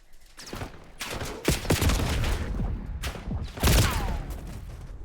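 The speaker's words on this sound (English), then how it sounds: "This time, remember, we're going to shoot like 6 bullets and stop and shoot 6 again." Controlled bursts of automatic gunfire from the Black Ops 6 video game in ranked play, several short volleys fired and paused in a rhythmic pattern, loud and close with sharp booming onsets.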